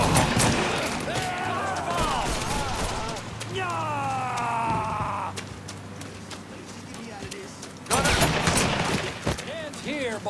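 Gunshots ring out in a Mafia 3 firefight at a flooded amusement park, sharp cracks scattered across the scene with a burst near the end, mixed with game music and someone talking over the action.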